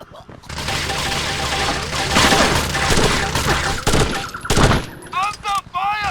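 Sustained automatic gunfire in the video game Rainbow Six 3, loud rapid bursts and crashing impacts that run almost continuously, with a short shouted voice line at the end.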